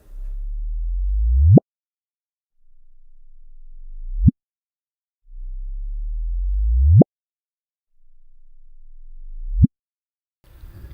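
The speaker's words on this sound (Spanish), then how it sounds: "les voy a hacer escuchar estas dos primeras detecciones, estas dos primeras notas de una sinfonía gravitatoria" Four rising sine-like chirps, two longer and two shorter, alternate with silence: sonified gravitational wave detections, each a low tone sweeping upward in pitch and ending abruptly in a sharp chirp, loud and isolated.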